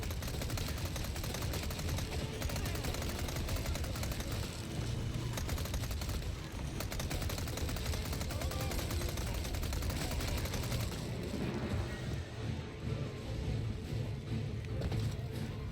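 Dense, continuous gunfire rattles from a Resident Evil 4 Remake gameplay fight, with rapid overlapping shots and booms forming a steady, loud barrage for the whole stretch.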